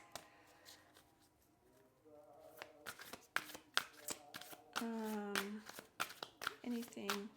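Tarot cards being shuffled by hand in a quiet room, a run of crisp riffling and sliding card sounds under a voice talking.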